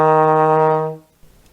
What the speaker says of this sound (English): We're going to go up another note now to E flat.